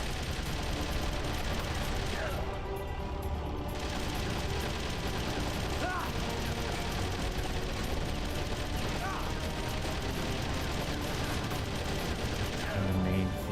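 Dense, sustained gunfire from a gun in the video game Metal Gear Solid: The Twin Snakes, a loud and continuous rattle of shots mixed with mechanical clatter and game sounds.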